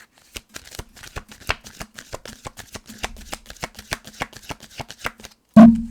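A deck of tarot cards is shuffled by hand, giving a rapid run of crisp flicking snaps that end in a sharp tap as the deck settles.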